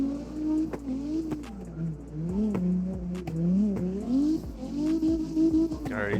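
Drifting car in the CarX racing game, running a locked differential on the Modelo Park track: a loud, continuous engine note rising and falling as the throttle is worked, with brief tire-squeal bursts through the slides.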